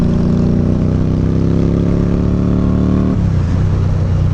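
An Indian Scout Bobber motorcycle fitted with a Dynojet Power Vision CX flash tune from Fuel Moto drones loudly and close as it accelerates, its engine note climbing before dropping abruptly at a gear shift, with no talking.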